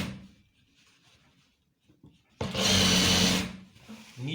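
A sewing machine runs a short burst of about a second, stitching the side seam of trousers for a police uniform, after a stretch of quiet handling and faint talk.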